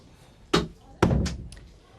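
A door is shut with a solid slam in a quiet indoor room, then a second heavier thud follows with a short rumbling tail and a faint rattle.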